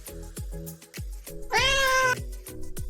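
Barsik, a cartoon cat, gives one drawn-out, rising meow against a steady backdrop of rhythmic plucked percussion, loud and close.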